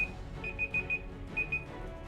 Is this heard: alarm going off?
yes